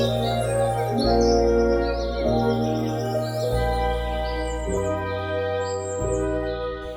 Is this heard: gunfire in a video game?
no